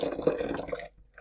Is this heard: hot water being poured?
yes